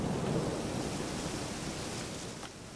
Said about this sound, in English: There's been a storm this whole time